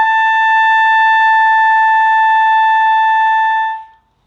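A single high B note on a clarinet is held steady and clear for a few seconds, then fades out.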